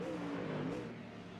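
A Mustang race car in a Mustang Challenge GT race drives down into Dunlop corner, its engine a faint, steady distant drone that eases off slightly toward the end.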